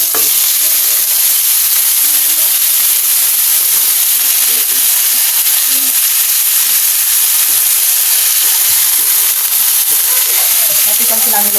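Chicken meat hits a hot pot for tinola and sizzles steadily, a loud continuous frying hiss with stirring scrapes throughout.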